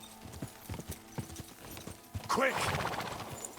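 Hooves clip-clop in a steady rhythm as a horse is ridden in Kingdom Come Deliverance 2, with a short shout and a brief whinny, then the gait quickens into a louder, busier run.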